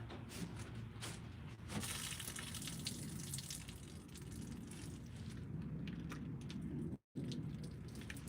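Water being poured and emptied out, a steady rushing gush with splashing and a few sharp knocks, continuing for several seconds before a brief cut.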